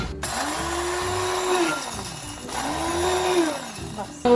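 An electric grinder crushes roasted coriander and cumin seeds in two whirring bursts, each rising and then winding down, loud and close with no talk.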